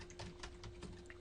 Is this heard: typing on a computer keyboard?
yes